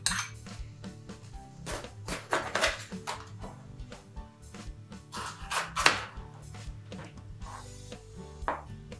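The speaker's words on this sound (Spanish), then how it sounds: "Ahora simplemente vamos picando las verduras." Vegetables for a rice salad are chopped with a knife on a board, giving quiet, uneven knocks and scraping taps in irregular bursts, close and faint, with no talk.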